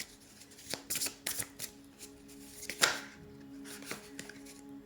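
Oracle cards are shuffled by hand for a reading: a close, quiet sequence of crisp riffling and slapping bursts, irregular and repeated over a few seconds, with a soft background hum and no talking.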